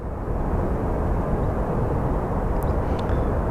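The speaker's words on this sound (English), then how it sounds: "we're looking at our WestJet plane" A WestJet airliner at Phoenix Sky Harbor airport gives off a loud, steady broadband jet roar that holds level throughout, heard close and alone with no talking.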